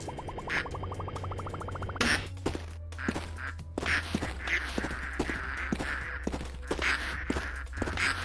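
Chat-triggered duck quacks from a stream alert, repeated in a rapid spammy stream over background music, with bursts of layered quacking sounds stacked close together throughout.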